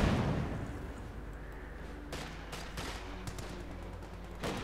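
Gunfire and artillery rumble in a Company of Heroes 2 battle, with scattered sharp shots and dull booms over a steady low roar of combat, fairly distant and with no talk.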